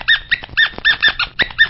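Popcorn, a small dog on an old-time radio show, barks and yaps in a quick loud run of about eight close, whining barks with no voices over them.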